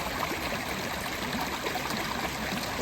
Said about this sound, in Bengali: দেখো কি সুন্দর জল বেয়ে যাচ্ছে